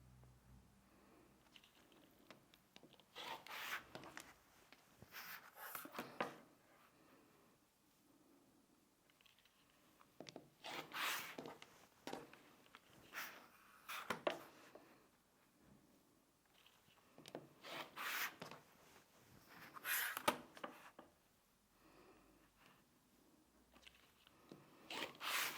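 Scissors or a rotary cutter slice through folded layers of festive fabric for a table runner, with several quiet bursts of cutting and rasping separated by pauses.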